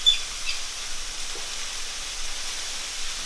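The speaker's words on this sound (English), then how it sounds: "So we'll chuck what's left of the sauerkraut in this mince. Just let that fry off for a little bit." Mince and sauerkraut frying in a pan give a steady, soft sizzling hiss that holds evenly throughout, close by and with no voices.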